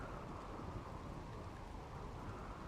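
Rain and thunder from a lightning storm in RimWorld, a dense, even roar of rainfall with low rumbling thunder blended in, steady and unbroken throughout.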